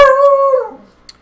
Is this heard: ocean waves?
no